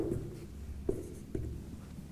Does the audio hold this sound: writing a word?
yes